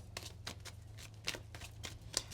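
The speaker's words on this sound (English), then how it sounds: "I will grab out 2 Kipper cards for you" Kipper cards are drawn and shuffled from a tarot-style deck, a quiet run of soft papery slides and flicks in an irregular rhythm, close but faint, over a low steady hum.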